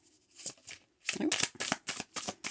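Starry Night tarot cards being shuffled by hand, a series of crisp riffling bursts in quick succession, close and fairly loud with brief pauses between.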